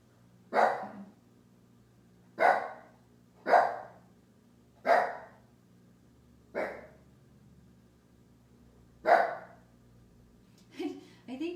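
A dog named Haley barks six times in irregular spaced bursts, loud and close in an indoor room, followed by a brief faint voice at the end.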